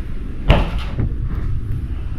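Mirrored wardrobe cabinet door swung open in a house: one sharp knock-like thud followed by a softer bump and faint rattles, close and brief against quiet room tone.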